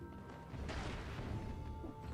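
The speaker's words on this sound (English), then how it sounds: "Doors can be open normally, but crashing through them stuns enemies" A door crashes open in the video game Dead Cells, a sudden loud smash about a third of the way in that rings out over a rumbling game soundtrack.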